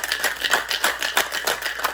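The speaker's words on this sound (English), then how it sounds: "And it's a margarita, so we're going to shake it." A margarita is shaken in a cocktail shaker with a pint glass, giving a steady run of bright rattling ice pulses, about eight in two seconds, close and fairly loud with no talking.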